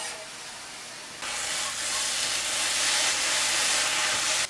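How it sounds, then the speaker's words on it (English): Chopped tomato insides hit a hot pan already holding nettles, setting off a sudden loud, steady sizzle that keeps going without a break, close by and with no talk over it. "So, adding the tomatoes now. This is the insides of the tomatoes that we chopped up."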